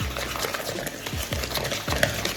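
Cornstarch is stirred into a batter of eggs and sugar, a run of soft, wet scraping and sloshing strokes in a quick, even rhythm, heard close with no voices.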